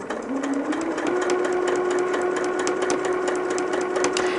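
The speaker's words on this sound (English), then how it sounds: "my machine is not running as slow as it was when we were sewing those curves" A sewing machine runs at a steady moderate speed, stitching fabric Dresden plate blades together, its rapid even needle chatter and motor whine continuing loud and close without pause.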